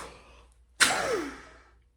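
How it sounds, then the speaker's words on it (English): A single deep, audible intake of breath, taken before blowing hard into a peak flow meter; a short, close, breathy inhale after a brief quiet pause, then fading out. "Big breath in."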